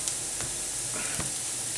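Crushed garlic hissing in a hot pan with chorizo oil and onions, a steady close sizzle with a couple of soft stirring scrapes.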